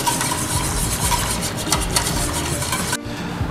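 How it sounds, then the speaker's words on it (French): An agar-agar mixture is stirred in a pot, a close, steady scraping and swishing that stops abruptly near the end, with no talking. "Je vais mélanger et reporter à nouveau à ébullition"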